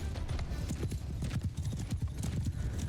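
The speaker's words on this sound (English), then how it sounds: "A little bit of cavalry skirmishing going on over here" Cavalry horses in Mount & Blade II: Bannerlord clatter in a dense, continuous drumming of hooves during a skirmish, loud and close, with a faint whinny mixed in.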